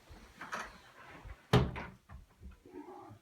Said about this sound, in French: Ferme la porte.